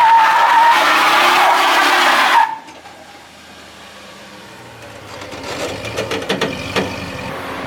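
A rebuilt, previously wrecked Ram 1500 pickup on its first road drive: a loud sustained tire squeal or engine roar that cuts off abruptly, followed by quieter road rumble with a rattling burst near the end.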